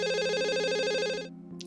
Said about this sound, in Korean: 휴대폰이 울렸다.